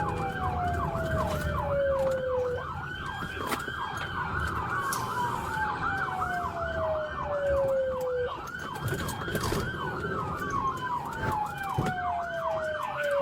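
Wailing police sirens during a real-life police pursuit, several rising and falling sweeps overlapping continuously with a steady, repeated yelp-like sweep, loud and close, over a rumble of road traffic, with no talk.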